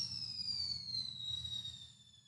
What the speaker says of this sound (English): Yeah, the fireworks.